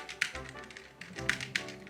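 Mechanical keyboard with brown switches, keys pressed in a few separate sharp taps, close and fairly quiet in a calm room with no talk.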